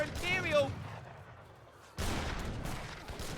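Little Bombard cannons fire in an Age of Empires III battle: after a short tonal sound and a quiet lull, a dense burst of overlapping booming shots erupts and continues loudly.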